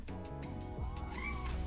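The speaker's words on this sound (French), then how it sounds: "j'ai mon chat qui vient d'interrompre" A pet cat meows and yowls close by indoors, a few drawn-out, rising and falling cries in quick succession.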